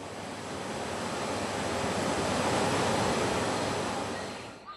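A protected-area waterfall roars as a steady, dense rush of falling water, swelling slightly and then fading near the end, with no voices.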